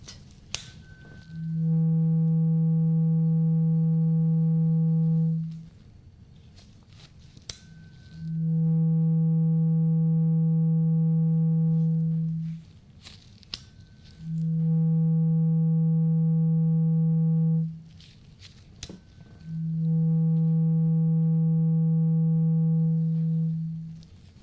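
A struck tuning fork rings out four times during an ASMR doctor-style hearing test, each a pure sustained hum lasting several seconds before fading, separated by quiet gaps with faint handling taps.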